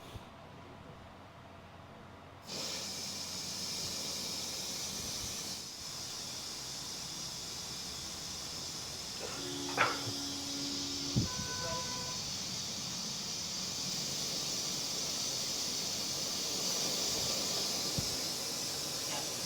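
OCA lamination machine releasing its pressure: a steady broad hiss of escaping air that starts abruptly and runs on continuously, with a couple of brief tonal squeaks and knocks partway through.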